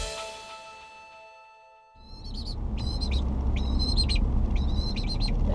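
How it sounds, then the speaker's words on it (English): A pet crow gives several short, repeated calls over a steady engine rumble, as if heard inside a moving vehicle. "That's your little happy crow, isn't it?"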